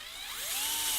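An electric drill spins up during a PC build, a short rising whine that climbs in pitch and holds, fairly close and loud, with no talk.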